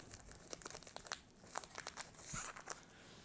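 A ziplock plastic bag, folded and with the air squeezed out, gets rolled up by hand, giving quiet, close, irregular crinkles and crunches in short bursts.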